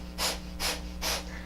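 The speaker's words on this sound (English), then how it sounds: "breath of fire, right?" Kapalabhati breath of fire: three sharp, forceful nasal exhalations in an even, rapid rhythm, close and distinct, each a short puff of breathy rush.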